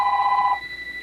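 A telephone rings with a steady electronic bell tone that cuts off after about half a second, leaving quiet room hiss.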